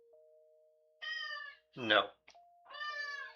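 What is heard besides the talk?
cat named Brimstone meowing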